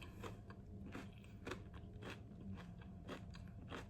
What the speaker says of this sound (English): The outside is super crunchy, but like in a good way.